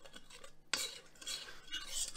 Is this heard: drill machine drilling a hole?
no